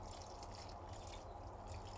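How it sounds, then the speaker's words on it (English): Water poured from a can at the base of a tomato plant in a greenhouse, a soft steady trickle and patter running continuously and fairly faint. "I want to water the tomato plant, I don't want to water the fruits, so I'll go down to the base and just put a few there"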